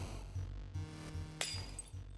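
A glass shattering effect from the Berrywitched video game: a sharp, bright crash and tinkle rising over a quiet, steady pulsing background drone.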